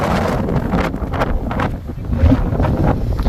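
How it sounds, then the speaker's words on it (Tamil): Strong wind buffets the microphone on a hilltop near a Murugan shrine, a loud, continuous rumbling roar with gusty swells throughout. "நல்லா காத்து அடிக்குது, எனவே தள்ளுது"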